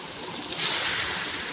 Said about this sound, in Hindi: इसमें आप पानी डाल दीजिए